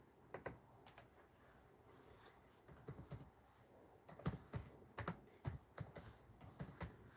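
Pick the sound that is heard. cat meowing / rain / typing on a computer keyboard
typing on a computer keyboard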